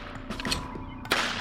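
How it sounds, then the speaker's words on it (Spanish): Several sharp gunshots crack out inside a garage, each with a short echo, the last one loudest, with no talking over them. "4 tiros que resuenan en el garaje."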